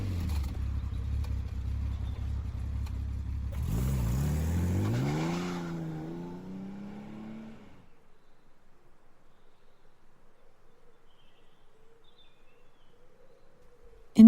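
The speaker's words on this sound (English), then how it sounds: "James Bond got into his Aston Martin and drove back to London" An Aston Martin engine drones low and steady, then rises in pitch as it pulls away, fading over several seconds into a faint distance and near silence.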